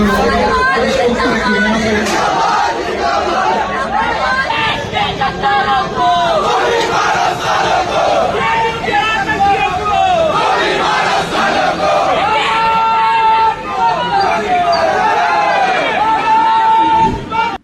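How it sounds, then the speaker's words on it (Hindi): Loud protest crowd in Delhi chanting slogans, a dense mass of raised voices shouting in rhythmic unison that carries on steadily throughout. "उसमें नारे लगे देश के गद्दारों को गोली मारो सालो"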